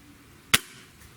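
A single sharp crack from a Gamo Swarm Magnum Gen3i air rifle fired across a chronograph, one close, loud report with a short decay into quiet.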